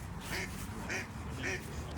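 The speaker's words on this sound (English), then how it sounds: "There's a lady duck being tailed by a male duck. She doesn't sound happy about it." A female duck, pursued by a male, lets out a string of four or five rasping quacks in a steady rhythm, moderately close over a soft background hiss.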